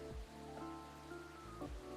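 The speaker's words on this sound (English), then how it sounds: "This rainy season sure is something." Rainy-season rain falling in the video game Coffee Talk, a steady soft patter on surfaces under faint background music.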